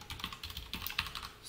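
Quick, crisp clicks of a computer keyboard being typed on at a steady pace, close and clear, with no talking.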